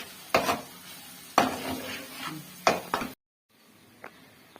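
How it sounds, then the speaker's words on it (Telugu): Mushrooms fry in oil in a pan over a low flame, with three scraping stirs of a utensil against the pan over a soft sizzle, then a brief quiet stretch and a light clink. "ఇప్పుడు మనం బాగా సిమ్లో పెట్టుకొని వేపుకుందాం."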